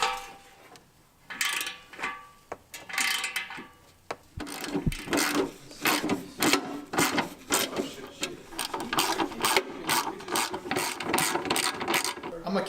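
A ratchet wrench clicks in rapid bursts of close, sharp ticks during mechanical repair work, speeding into a steady run of clicks in the second half.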